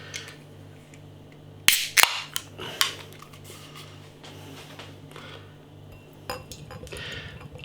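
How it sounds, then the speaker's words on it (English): A 440 ml can of Cloudwater IPA is cracked open with a sharp metallic click and hiss, followed by a few clinks against glass and a soft, fizzy pour near the end, all close by. "Let's get this can out into a glass."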